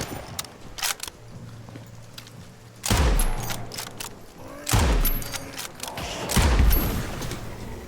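Gunfire and explosions in the video game Nightingale: a scatter of sharp shots, then three heavy booming blasts roughly two seconds apart, each with a rumbling tail, loud and close, with a voice speaking between them.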